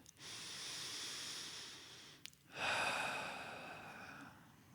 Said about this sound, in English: Take a couple deep breaths in and out.